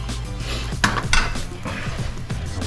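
A metal utensil scrapes and clinks against a pan while working a thin-crust keto pizza with crispy cheese and toppings, giving repeated close scraping strokes over a faint sizzle.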